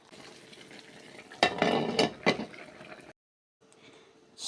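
Chicken adobo simmers with water in a pan, giving steady bubbling and sizzling with a few louder clinks and scrapes of stirring, a brief pause, then the simmering resumes.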